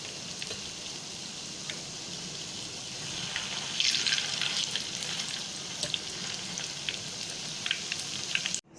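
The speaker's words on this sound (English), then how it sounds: "Shallow fry it on low flame for 2 minutes, one side." Beef reshmi kabab shallow frying in oil on a low flame, a steady soft sizzle with small crackles and pops, swelling slightly midway before cutting off abruptly at the end.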